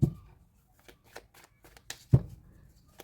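Tarot cards being shuffled for a love reading: several crisp riffling and slapping bursts, two heavier thumps at the start and near the middle, close and alone with no talking.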